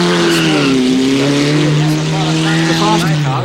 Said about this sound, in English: A full complement of 75 cars raced against the clock in the event